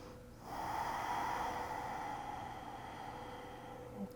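A slow, deep breath during bedtime yoga, a long airy exhale swelling after a brief pause and easing off steadily, close and soft with no talking.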